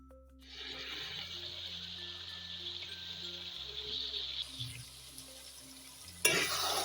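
Desi chicken karahi frying in a pan while being stirred, a steady close sizzle with occasional scraping stirs, a louder burst near the end.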